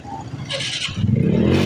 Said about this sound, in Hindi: साथ ही सब हमर बाइक रेडी भ गेल देखी छी चालू होइए कि ना।